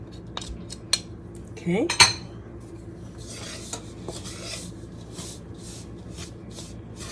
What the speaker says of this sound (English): Now I'm going to scrape off the spoon, mix a little bit more